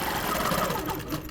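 A sewing machine stitches steadily along a quilting ruler line, a close, continuous rapid whir with a fast even pulse that runs without a break.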